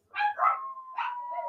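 A dog named Marie gives a brief, close, wavering howl that rises and then holds a long, sustained tone, heard alone in a quiet room.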